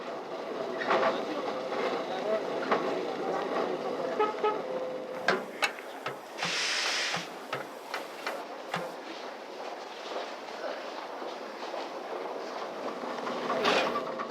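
An old express train, the 1001 to Toulouse, waits at platform 21 of a busy station, with rumbling railcar noise, clanks, a short hiss and horn toots amid platform bustle, moderately distant.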